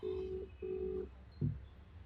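An unanswered phone call rings back twice in short, even tones, then a brief click follows, faint and heard through a handset.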